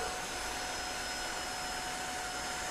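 A Tineco OneS3 cordless wet-dry vacuum cleaner runs continuously, a loud, even motor whine with a constant airflow hiss heard up close and alone.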